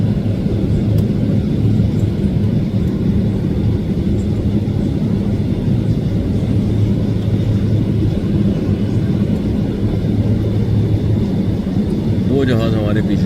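Airplanes taxi in a steady line at a busy airport, a continuous loud low rumble of jet engines close by that fills the whole clip without letting up.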